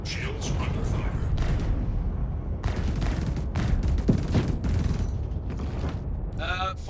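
A spaceship's shields take sustained gunfire in Star Citizen: rapid volleys of loud, crackling impacts and bursts in quick succession with short gaps, dense and close.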